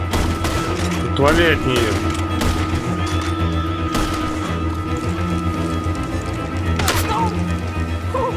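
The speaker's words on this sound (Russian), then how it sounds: "Кто там по нам стреляет?" Red Dead Redemption 2 gunfights crackle with repeated gunshots and sharp bursts, loud and close over a tense game soundtrack, while a character shouts and voices speak between shots.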